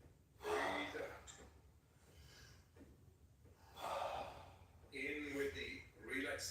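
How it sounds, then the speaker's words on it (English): Deep rhythmic yoga breaths during a blindfolded practice, several strong inhales and exhales in steady cycles, near and fairly loud, with pauses between rounds. "Back into that rhythm. Breathe in, breathe out, breathe in, breathe out."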